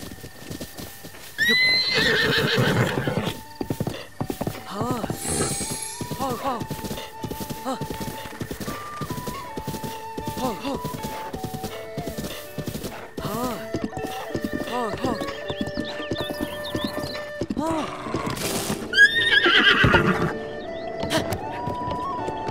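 Horse in the video game Zelda: Breath of the Wild, with repeated clip-clopping hooves and a couple of loud neighs, set among game music tones and effects while a person talks over parts.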